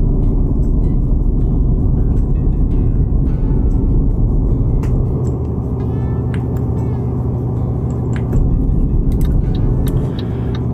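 A heavy truck engine drones steadily in Euro Truck Simulator 2, holding a loud, continuous low rumble as it accelerates, with faint clicks and rattles above it.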